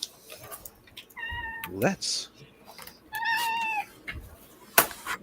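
A cat meows twice, drawn-out tonal calls with clear harmonics, close to the microphone, while a person talks briefly around them.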